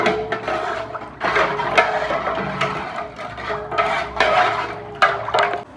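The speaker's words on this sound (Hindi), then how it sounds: "हाँ पानी डालो, लाल निकले गुलाबी है" Water is stirred and splashed in a pot while pink sharbat is prepared for a Muharram sabeel, with repeated clinks of a utensil against the metal rim and sloshing bursts, close and fairly loud.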